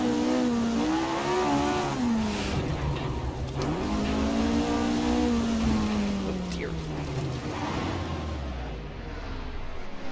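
A 1967 Formula 1 car at Watkins Glen in Assetto Corsa screams loudly up and down through the revs, its engine note rising and falling steadily across the whole stretch.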